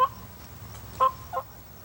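A wild turkey in the Texas woods gobbles in short, rattling bursts, one near the start and two more close together about a second later, fairly clear over a quiet outdoor background.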